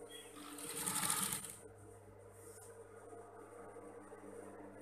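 A sewing machine stitches the wing of a mermaid dress in a short, rapid burst that rises and fades, followed by quiet room noise with faint low hum.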